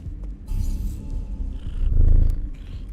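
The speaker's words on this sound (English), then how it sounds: "Happy cat noises are happening." A pet cat purring close by, a low steady rumble that swells in two waves over about three seconds, with faint game sounds in the background while a cat-themed streamer plays Nine Sols.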